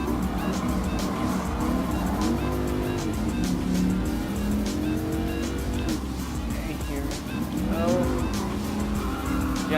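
A Dodge Viper SRT10 coupe racing in Gran Turismo Sport roars steadily at high revs, its engine note rising and falling through gear changes, with other cars' engines mixed in and a commentating voice running underneath.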